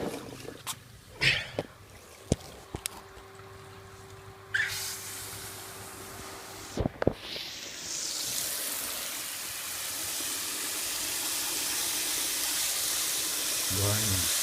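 Water gushes steadily into a basin fitted with a grid for rinsing olives, a broad rushing flow building after some clanks and handling knocks, with a voice speaking over parts of it.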